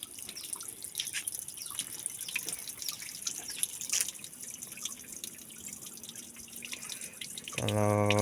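Water running and dripping at a village bathing place, a close, steady trickle with scattered drips throughout, then a louder gush swelling at the end.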